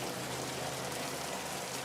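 Steady rain falling through foliage in a video game trailer, a dense even hiss of drops that holds constant and close throughout with no voices.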